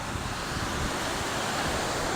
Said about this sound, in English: observe the water, observe the waves as they break.